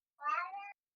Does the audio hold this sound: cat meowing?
yes